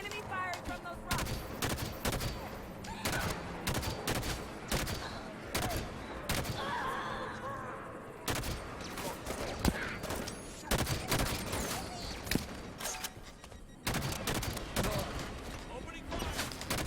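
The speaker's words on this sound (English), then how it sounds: "Enemy firing from those rocks." Enemy fire pours from a rocky outcrop in the Halo 5 campaign, dense rapid bursts of gunfire with sharp repeated cracks and short pauses, loud and close, with voices talking over parts of the exchange.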